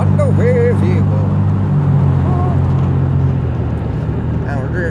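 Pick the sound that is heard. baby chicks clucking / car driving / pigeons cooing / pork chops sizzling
car driving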